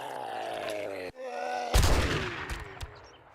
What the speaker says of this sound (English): I'm just going to shoot him.